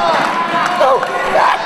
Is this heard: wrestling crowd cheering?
yes